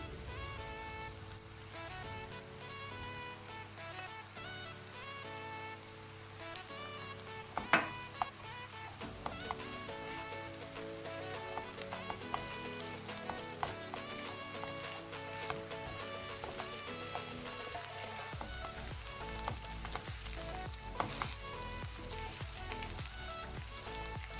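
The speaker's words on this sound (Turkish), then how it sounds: "Şimdi üzerine küçük küçük doğradığım tavuğu ilave ediyorum." Steady sizzling and crackling of chopped chicken frying with rice in a hot pan for chicken pilaf, with occasional stirring clatter, continuous throughout with no talking.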